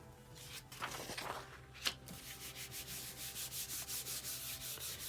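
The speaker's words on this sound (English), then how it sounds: "make sure you rub it really well so it's got good contact with your plate" Paper laid over a stencil being rubbed by hand onto a gelli printing plate, a few scattered swipes giving way to a quick regular run of soft scrubbing strokes, close and quiet.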